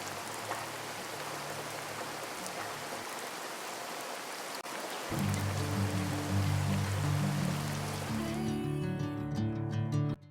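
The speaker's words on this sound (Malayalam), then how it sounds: "പുറത്ത് നല്ല മഴ തകർത്ത് പെയ്യുവാണേ." Steady heavy rain hisses outside, with a low droning hum joining partway through and continuing under the downpour.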